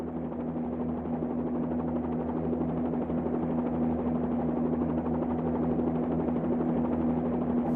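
A Bell 47 helicopter holds a steady hover in a VR flight simulator game, its rotor and engine giving a continuous, even drone with a strong buzzing tone that stays loud and unchanging throughout.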